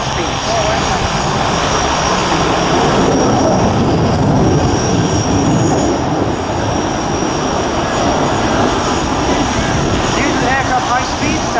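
Variable-sweep-wing jet aircraft roaring through a display at an air show, a loud continuous engine rumble throughout, with a commentator talking over it.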